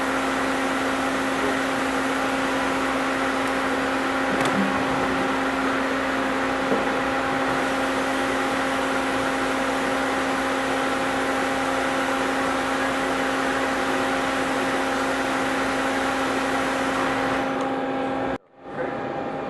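A CNC lathe runs steadily with a face grooving tool cutting and coolant flowing, a constant machine hum with tonal whine and spray hiss throughout, cutting off abruptly near the end.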